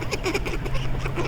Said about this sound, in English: Oh, there's a duck fight.